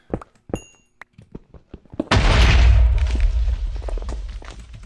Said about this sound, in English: Now we have nitro creepers, which are basically similar to these stupid explosions.